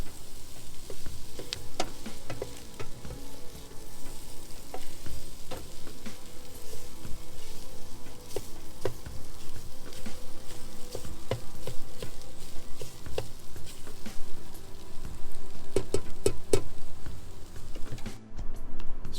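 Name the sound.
potatoes, green peppers, red onions and eggs frying in PowerXL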